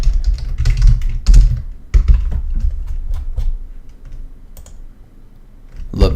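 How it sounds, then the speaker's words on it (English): Hard, heavy typing on a computer keyboard, keys smacked aggressively in dense bursts with occasional louder thumps, close and fairly loud throughout, no talking. "Love the keyboard smack."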